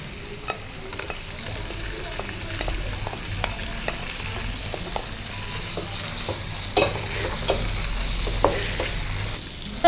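Green mutton chukka sizzles steadily in a pan with masala while a spoon stirs and scrapes in irregular clicks, close and continuous, with no voices.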